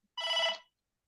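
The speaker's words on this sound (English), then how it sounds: "my phone's ringing, I think" A phone rings once with a brief electronic trill, a single burst of about half a second, moderately loud and alone with no talk around it.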